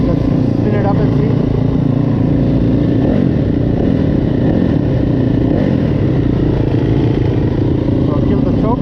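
A Yamaha YZ250F dirt bike engine runs loud and close with a continuous buzzing, fluttering idle and slight rises in revs, with a person talking over it.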